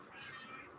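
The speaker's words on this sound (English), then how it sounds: "He's a good kitty, aren't you" A pet cat lets out one soft, short meow close by, a single brief call in a quiet room.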